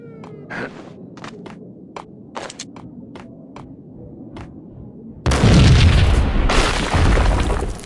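A loud explosion boom in the video game Max Payne erupts abruptly and dense, then rumbles on for a few seconds, following a stretch of quieter scattered clicks and small impacts.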